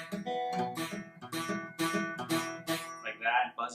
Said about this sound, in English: If it's touching the fret, if it's on the fret, it'll be buzzing.